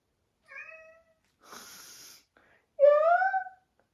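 A house cat gives two distinct, close meows, the second louder and longer, with a short breathy hiss-like sound in between and silence around them.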